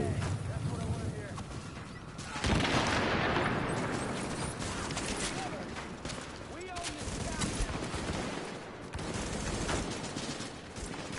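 Sustained gunfire and explosions from The Division on PS4, dense and continuous at moderate distance with rapid bursts layered through the mix, while players talk over the combat.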